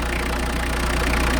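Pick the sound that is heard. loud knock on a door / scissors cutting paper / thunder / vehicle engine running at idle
vehicle engine running at idle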